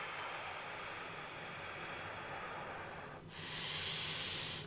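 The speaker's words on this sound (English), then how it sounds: "Anchor yourself with a deep exhale" A deep exhale during Kundalini yoga breathing, a long breathy rush of air that runs steadily for about three seconds, breaks off briefly and then resumes, close and fairly loud with no talking.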